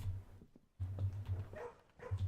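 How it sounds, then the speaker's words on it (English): A dog barking in the video game Blue Prince, a few muffled barks over a low humming game soundtrack, fairly faint and close. "Dog."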